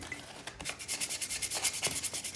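Close rhythmic rasping of sandpaper scrubbing old paint off a thrift store item to smooth a spot for repainting, steady back-and-forth strokes quickening into a regular pulse.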